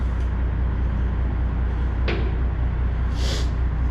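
The latch on a cattle trailer door clanks once sharply mid-clip, followed by a brief hiss or scrape, over a steady low background hum outdoors.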